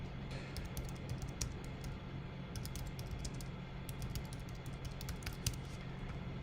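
Quiet typing on a computer keyboard, with bursts of light rapid keystrokes broken by short pauses over a low background hum.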